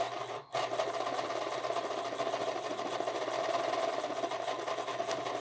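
A sewing machine with faulty timing that is skipping stitches runs at a steady fast pace, giving a continuous rattling, buzzing whir that briefly cuts out near the start and then hums on evenly and close by, with no speech.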